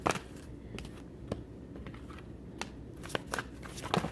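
Oracle cards being shuffled by hand, producing a steady papery rustle punctuated by sharp flicks and slaps of the cards, close and fairly loud, with no talking.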